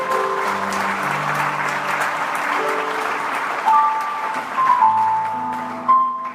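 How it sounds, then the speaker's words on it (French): A church congregation in Kinshasa applauding and cheering for the Lord, dense sustained clapping with music playing underneath and a few louder swells. "on va acclamer très fort pour le Seigneur"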